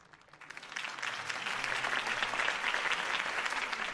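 Crowd applause for a campaign speech in the Batman Telltale Series video game, swelling from a few claps into steady, dense clapping that holds loud and continuous to the end.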